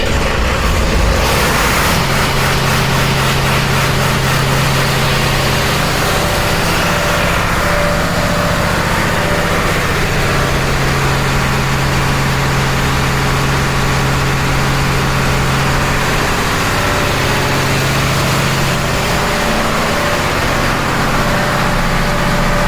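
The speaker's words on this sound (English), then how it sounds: "I will start, engine will start." A car is started with a push-start button, then settles into a steady idle, with a low continuous engine drone and hum running throughout, loud and close.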